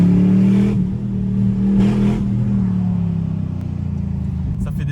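A Chevrolet Camaro V8 accelerates hard on a highway, heard from inside as a loud, deep engine drone rising in pitch, with gear changes briefly interrupting the steady roar.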